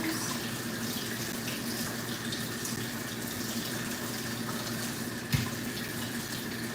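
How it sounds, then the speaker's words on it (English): Potatoes washed under a running kitchen tap, a steady close wash of water with one brief knock partway through and no talking. "Wash these potatoes."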